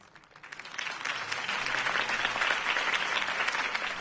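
Applause from a crowd swells after a Harvey Dent campaign speech in the Batman Telltale video game and holds as a dense, sustained clapping wash for several seconds.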